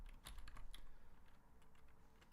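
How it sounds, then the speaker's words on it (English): Fingers typing Chinese on a computer keyboard, a quick run of close, light key clicks that settles into softer taps. "So I'm going to type in the chat right now. I'm going to type in Chinese."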